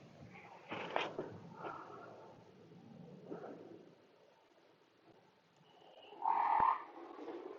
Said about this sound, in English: This is the call of this frog.